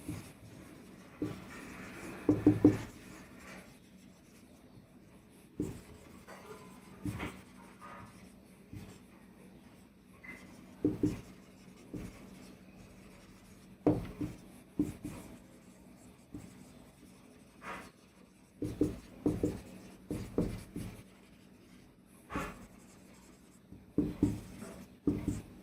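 Chalk or marker writing on a board in a classroom science lesson, heard as intermittent scratchy strokes in short bursts separated by quiet gaps, fairly faint and close.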